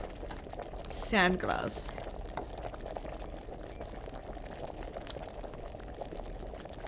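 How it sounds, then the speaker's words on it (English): Potion bubbling in a cauldron in Kingdom Come: Deliverance, a soft continuous simmering hiss under quiet game ambience, briefly interrupted by a short rising chime and a spoken word. "Now it's kind of boiling."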